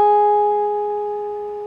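Sustained electric guitar note picked on the fourth fret, a clean tone with clear overtones that rings alone from a sharp start and slowly fades.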